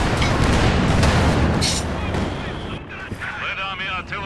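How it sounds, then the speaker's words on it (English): Red Army artillery firing in a real-time strategy video game, heavy booming shots and blasts clustered in the first couple of seconds, then fading into lighter battle noise. "Red Army artillery, ready to fire."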